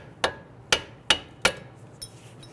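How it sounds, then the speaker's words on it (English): A flathead screwdriver taps out the U-shaped horseshoe clip on a brake hose of a 2011-2017 Nissan Quest: five sharp, close metallic taps at an even pace, the last one softer. "You can use a flathead screwdriver or a pry bar. Put it right here and just gently tap that out."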